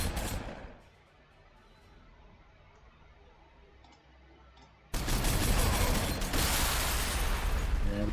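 Gunfire in Warhammer 40,000: Sanctus Reach, Ork forces shooting at Terminators: a loud opening burst fades into quiet clanking, then a sudden heavy sustained barrage of shots and explosions roars on to the end.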